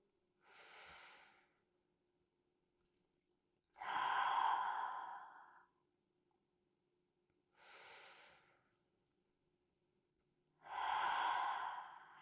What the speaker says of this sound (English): taking a few deep breaths in through the nose, out through the mouth, just to start